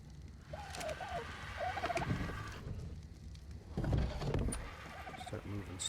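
A bird in the ARK survival game gives repeated gobbling, turkey-like calls in short bursts, heard alongside a voice talking over game sounds.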